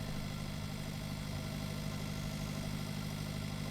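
Farm tractor engine pulling a trailer in the game Pure Farming 2018, a steady low, even drone with no changes in pitch, heard alone at moderate level.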